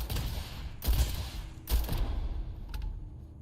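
Gunfire in the space game Starfield: two heavy bursts of shots crack out about a second apart, followed by fainter scattered pops, over a constant low background rumble.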